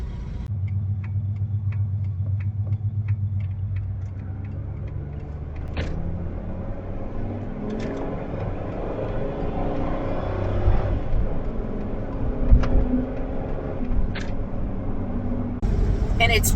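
An RV engine idles steadily at close range, a low continuous rumble with occasional small ticks and clicks, while people talk over it throughout.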